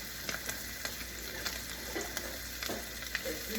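Sausages frying in a pan on the stove give off a steady, close crackling sizzle, with scattered sharper pops and spits rising above the hiss throughout.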